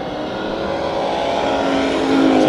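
Dirt track race cars battle for position at Kings Speedway, a loud, sustained engine roar that swells as the pack drives past, with no voices heard.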